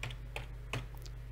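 Three evenly spaced keystrokes on a computer keyboard, crisp and fairly close, over a steady low electrical hum with no talking.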